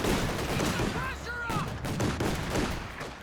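MG34 machine gun fire from a building in the video game Company of Heroes 2: rapid, sustained bursts of automatic fire blending with other battle noise and brief whistling sounds, loud and continuous for the full stretch.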